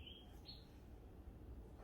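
Two quick high bird chirps near the start, fading into a steady low background hum, with no talking.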